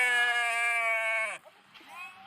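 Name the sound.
flock of goats or sheep bleating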